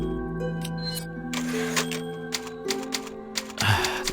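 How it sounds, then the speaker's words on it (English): An old typewriter clacks in the survival-horror game Resident Evil 4, with several sharp key strikes and a carriage-like clunk over a sustained, moody musical background, heard alone without talking. "The classic typewriter."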